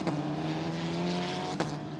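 Formula Regional European Championship race cars hurtle through turn 7 at Paul Ricard Circuit, a sustained high-pitched engine whine roaring steadily with a sharp burst near the end as another car passes.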